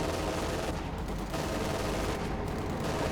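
Dense, continuous battle noise from a Company of Heroes 2 match, with loud overlapping gunfire and anti-tank rifle shots that blur into a steady roar for the whole stretch.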